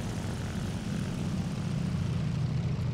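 A propeller fighter plane engine throttled back for landing in the War Thunder combat flight game, a steady low droning hum with a faint buzzy overtone, continuous and even throughout.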